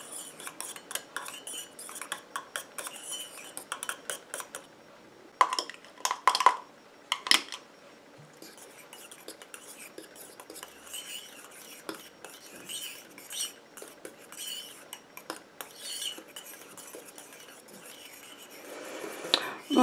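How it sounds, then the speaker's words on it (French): A utensil stirs homemade coconut and donkey milk shower gel in a container, making intermittent clinks and scrapes, with a few louder taps in the middle. The sounds are close and irregular, and nobody speaks. "Je mélange doucement parce que ça va encore plus mousser"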